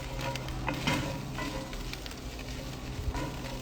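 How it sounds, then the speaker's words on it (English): Spring onions sizzle steadily in a hot pan with cumin and chili flakes, a dense close crackle with occasional louder pops and stirring scrapes. "I'll add the onions to it just to soften them up a little bit."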